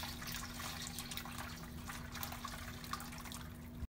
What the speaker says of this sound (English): I'm pouring it through yet another strainer here, and then I'm ending up with the liquid gold down here.